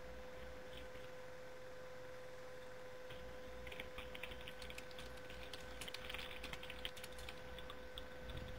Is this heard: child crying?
no